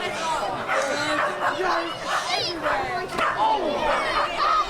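A local dog barks and yips repeatedly amid the chaos of an outdoor UKPW tag-team wrestling brawl in gardens at Rochester, its calls mixing with crowd noise and overlapping commentary voices.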